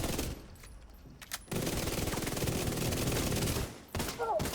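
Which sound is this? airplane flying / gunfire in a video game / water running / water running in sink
gunfire in a video game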